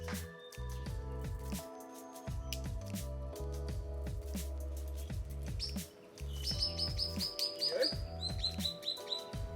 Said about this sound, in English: swift parrot feeding on the flowers right beside me